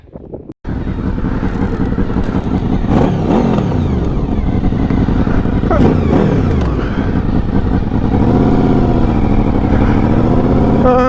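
Motorcycle engine running steadily while riding, with loud wind buffeting the microphone, revs rising and falling through the gears over a continuous close roar.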